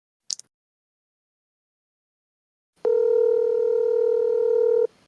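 A steady electronic phone tone sounds alone for about two seconds after a brief click, a sustained ringback while a call waits to be picked up, loud and close.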